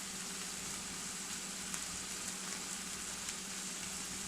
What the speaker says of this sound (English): as my mushrooms cook, I'm going to cook some onions down and some garlic